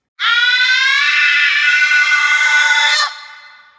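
A woman's long, shrill horror scream, loud and close, held steadily for about three seconds before cutting off, with a brief fading tail.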